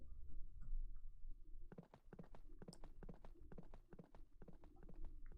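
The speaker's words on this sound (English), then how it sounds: "It's a carriage! A carriage is coming!" Hooves of a horse-drawn carriage clip-clop in an uneven rhythm as it approaches, preceded by a low rumbling background before the hoofbeats start.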